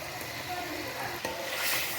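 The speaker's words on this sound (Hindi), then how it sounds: "अभी चिकन को अच्छे तरीके के साथ मसाले में भून लिया जाएगा" Chicken breast frying in spices in a pan, a soft steady sizzle with light scraping and stirring from a spoon, fairly close but low in level.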